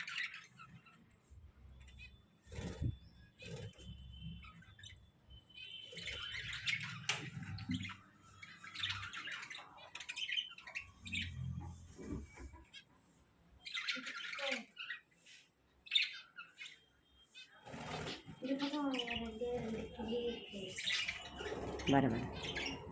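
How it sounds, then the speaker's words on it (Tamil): Lovebirds chirp and squawk close by in bursts of sharp, raspy calls that rise and fall irregularly, with a few quieter gaps and some talking mixed in. "அந்த சின்ன குட்டி கூட கிளி தான் நினைக்கிறேன். இவங்களாம் லவ் பேர்ட்ஸு."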